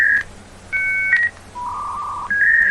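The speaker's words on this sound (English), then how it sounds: "I'm just dialing up real quick here." A dial-up modem dials out with a quick run of clear, loud touch-tone beeps followed by steady held tones, up close with no talking.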